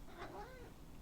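Loki, a pet cat, gives a single short meow, faint and somewhat muffled against steady room background noise.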